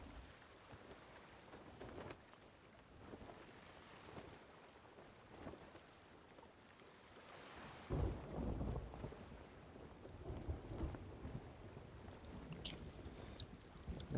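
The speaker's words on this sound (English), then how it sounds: "I'm gonna have to sail back through that fucking storm." A stormy sea in the game Sea of Thieves, with rain and wind noise that turns heavier and rumbling partway through, like thunder and rough water, playing alone without talk.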